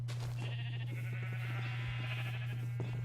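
Sheep bleating on a Minecraft sheep farm: repeated close, wavering bleats over a constant low electronic hum, no voices.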